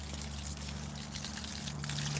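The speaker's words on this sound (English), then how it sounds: "So that's the water that I have running" Water runs by a hydro turbine setup in snowy surroundings, a steady trickling flow over a constant low hum, fairly close and even throughout the short stretch.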